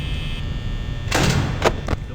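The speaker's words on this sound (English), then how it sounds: "Close the door until I know where Bonnie is." In the video game Five Nights at Freddy's, a door closes with a muffled thud over a steady low hum, followed by two brief knocks.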